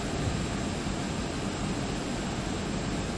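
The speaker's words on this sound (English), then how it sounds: "Shut down the APU." An aircraft APU in the X-Plane 12 flight simulator keeps up a steady, loud broadband jet roar with no clear change in level, heard alone.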